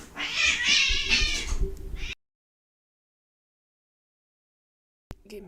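A cat yowls and meows loudly and insistently for about two seconds, close up, followed by silence and then a brief sound cut off at the end.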